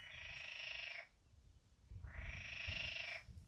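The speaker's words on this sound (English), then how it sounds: "Bloody frogs are kicking off and all." Frogs croaking at a French lake at night, two long pulsing choruses separated by a short pause, fairly close and steady over low background rumble.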